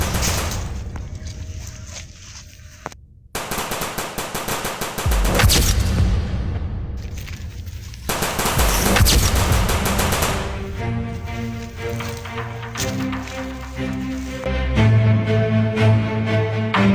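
Video game gunfire in rapid bursts of loud, close automatic shots, broken by brief pauses, with booming impacts and game music layered through the volley.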